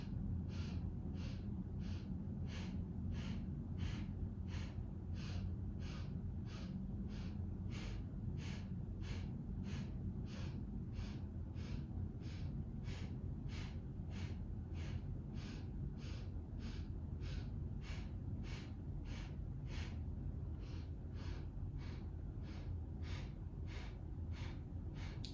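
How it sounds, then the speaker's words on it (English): A person breathes slowly during yoga, inhaling and exhaling on a four-count, the soft breaths repeating in a steady, even rhythm over a quiet hum. "Keep breathing, inhaling 4, exhaling 4."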